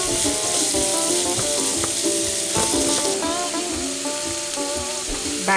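Onions and peppers sizzle and fry steadily in a big soup pot, a loud, continuous crackle with occasional stirring scrapes and no talking.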